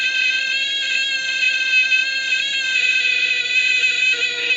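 A Major Morgan toy electronic organ sounding a harsh, buzzy D note, held steady and loud with rich overtones for several seconds, with no talking.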